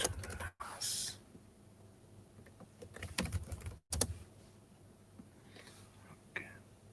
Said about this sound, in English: So let me type something like Windows to NAS.